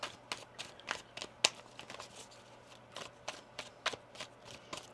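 Tarot cards are shuffled at close range in a quiet room, giving a run of short, crisp riffling bursts at irregular intervals, with a steady low hum running beneath them.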